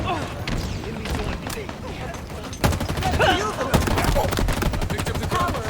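Sidekick pistol shots from Halo Infinite ring out in quick sharp bursts, growing denser and louder in the second half amid other weapon fire, while a person talks over the action.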